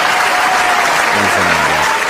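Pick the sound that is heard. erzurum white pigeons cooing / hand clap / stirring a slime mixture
hand clap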